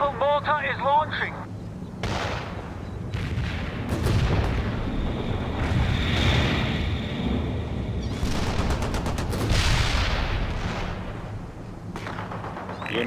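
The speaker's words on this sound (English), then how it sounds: "Mobile mortar is launching." Mobile mortar artillery fire booms repeatedly in the World in Conflict battle game, heavy blasts and gunfire rumbling over a continuous war din while radio-style voices call out orders.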